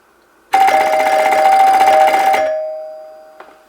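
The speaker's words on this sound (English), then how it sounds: "This is called a NuTone repeating chime, or in the old days they used to be called a repeat-a-chime." A NuTone two-note repeating door chime rings with a rapid, buzzing repeated strike for about two seconds, then the tones ring on and fade. A small click follows, loud and close.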